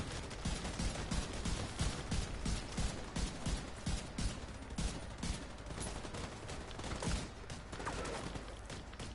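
Rapid gunfire crackles in dense bursts during a firefight in the video game The Division 2, with shots landing in quick overlapping volleys at close range and no break throughout.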